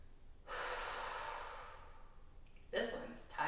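Breathing during a stretching routine: one long, close exhale, then after a pause a sharper breath in and a short follow-up.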